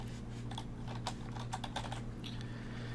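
Quick irregular clacks of a computer keyboard rattle out in bursts over a steady low electrical hum, close and fairly quiet, with no speech.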